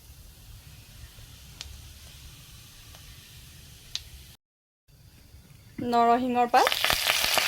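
Ajwain, cumin and dried red chillies frying in hot oil in a pan give a quiet steady sizzle, which is briefly cut off and then returns, before a short burst of spoken voice and a louder hiss.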